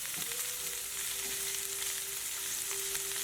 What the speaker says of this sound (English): So right now it's the sauteing process.